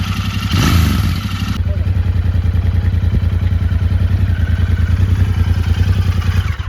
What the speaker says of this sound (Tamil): ஸோ வண்டியோட என்ஜின் சவுண்டு பாருங்கள்